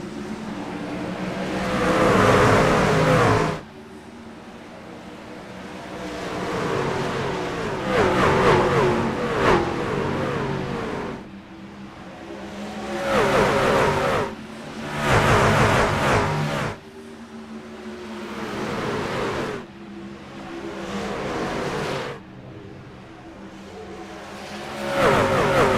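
Race trucks in the iRacing Truck Series at Dover roar as they accelerate off turn four on a green-white-checker restart, loud engine revving in surging waves that swell and drop repeatedly over about twenty-five seconds, with no talk.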